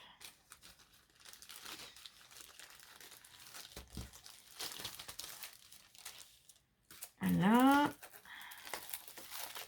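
Plastic wrapping of a mail-order package crinkles and tears as it is opened by hand, soft close rustling in irregular bursts, with someone briefly speaking and a louder voiced exclamation near the end.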